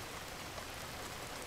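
Rain on a rainy day falls steadily, a dense, even hiss of drops that stays constant and moderately quiet throughout.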